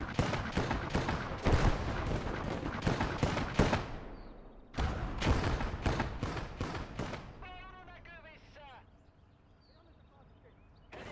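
A 37 mm gun fires in a hardcore Finland conquest battle of Gates of Hell, loud, dense bursts of booming shots that stop abruptly and then resume, with a whistling, crackling tail as the firing fades.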